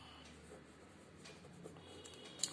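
A pen scratching faintly across a paper election form, with soft, irregular strokes and a slightly sharper tap near the end in a quiet room.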